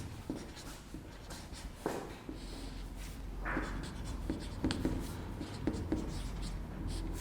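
Chalk scratching out a name on a classroom board for a Class 11 physics lesson, with a steady run of close, dry strokes and taps and no speech.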